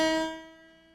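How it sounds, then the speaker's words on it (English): A single sustained reference tone for a guitar's high E string, generated by an online tuner. It starts clear and bright, then fades gradually over about a second, with no other sound. "So if I press the button for the high E string, I should get this sound,"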